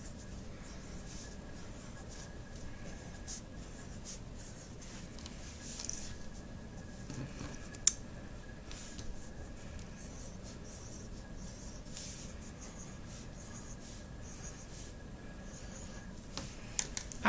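Pencil drawing patterns on paper, a soft continuous scratching and scribbling close by, steady and quiet with a few small taps near the end.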